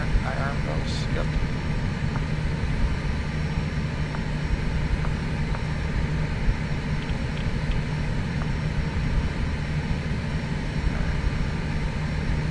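Airliner engines in Flight Simulator X hum steadily at takeoff configuration, forming a constant drone with a few faint clicks while cockpit talk continues over them.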